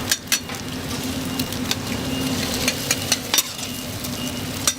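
Steady frying sizzle from a busy Taiwanese street-stall griddle, with repeated sharp scrapes and clinks of a metal spatula working across the hot surface, close and continuous without talk.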